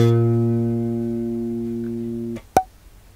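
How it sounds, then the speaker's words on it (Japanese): One plucked B flat on a bass guitar's G string, sustaining smoothly and tapering for a couple of seconds before being muted, followed by a short sharp click. "B フラットの音になります。"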